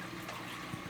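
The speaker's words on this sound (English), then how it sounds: "The actual flow rate, as measured here at that fitting, just pouring out, straight out" Water pours steadily straight out of the outlet fitting of a blue Aqueon aquarium pump rated at 700 gallons an hour, on an empty 75-gallon tank setup, making a continuous soft rushing splash close by with no talk.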